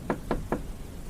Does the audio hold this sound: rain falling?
no